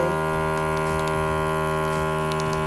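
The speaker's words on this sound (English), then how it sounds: "So that is vacuuming it" A vacuum sealer pulling air from a bag of frozen meal: a loud, steady motor hum with a constant pitch running the whole time, close and unbroken, with no one talking over it.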